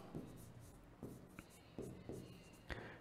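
A teacher writes on a board in a classroom lesson. Chalk or marker strokes come in quick, faint, irregular scratches and taps.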